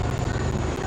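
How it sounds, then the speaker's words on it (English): Three military helicopters flying in formation over a Republic Day parade at Kartavya Path, New Delhi, a brief loud rotor rumble with steady low thumping. "helicopters in big formation as they move forward"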